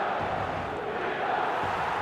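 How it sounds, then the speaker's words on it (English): Video game stadium crowd in eFootball 2025 roaring after a goal, a dense sustained wall of cheering at steady loudness throughout. "the crowd level has gone up a notch or 10"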